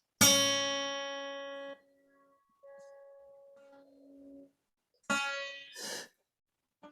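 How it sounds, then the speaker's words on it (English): A guitar's second string, fretted at the third fret, is plucked once and rings out with a slowly decaying tone, followed by a few quieter notes and breaths. "Okay, now pluck that string."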